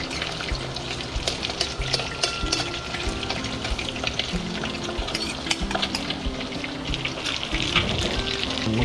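Cooked mung beans sautéing in a pan, a steady busy sizzle and frying crackle with some watery stirring noise, moderately loud and continuous, no talk.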